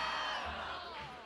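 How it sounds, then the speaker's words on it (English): A crowd cheers and whoops at a climbing competition finals, the roar loud and sustained throughout. "the crowd is so excited"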